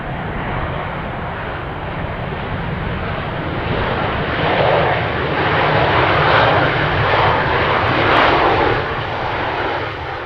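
A WestJet airliner climbs out at full throttle at Edmonton International Airport, its loud broadband engine roar holding steady and swelling slightly over ten seconds with no voices.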